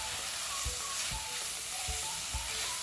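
Chopped mushrooms sizzle steadily in a pot while being stirred, a soft continuous frying hiss broken by several dull low scrapes of the spoon at a regular pace, with no talking.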